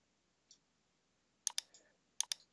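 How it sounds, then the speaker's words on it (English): Computer mouse buttons click during drawing software work: one soft click, then two quick double-click bursts about a second apart, crisp and close in an otherwise quiet room. "Clicking as I go,"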